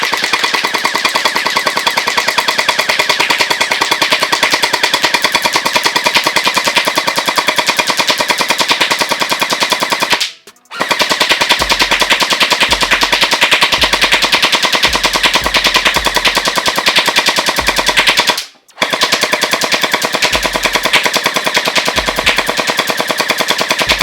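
An XShot HPG700 gel blaster fires at a downrange target in long rapid bursts of loud, tightly spaced shots, broken by two brief pauses.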